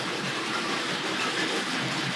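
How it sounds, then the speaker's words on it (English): A Tri-ang model train rattles steadily along its track, giving a constant close-up clatter with no pauses and no voices. "can hear it rattling in from the right of shot here"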